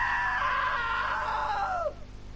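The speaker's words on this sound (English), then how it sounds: "Now that was a great scream" A single drawn-out scream of around two seconds, falling in pitch at the end, from the video game What Remains of Edith Finch, loud and alone, with no speech.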